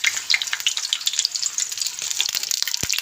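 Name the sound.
egg shami kebabs frying in a pan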